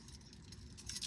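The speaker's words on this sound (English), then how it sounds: "you do this and it's like your keys jump together" Metal keys on a magnetic quick-release keychain jangle and clink together briefly, close and fairly loud, with no talking.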